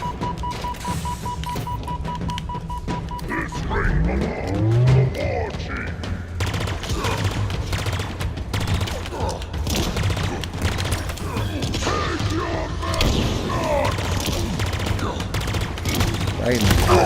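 Enemy shotgun fire in the Halo Infinite campaign, played on Xbox Series X: repeated sharp blasts mixed with other gunfire and mechanical clatter, loud and dense throughout, with a voice speaking partway through.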